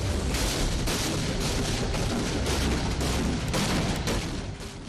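An S-300 air defense system test-fires during a military exercise, a continuous loud roaring blast with repeated booming surges and crackle, heard alone without speech.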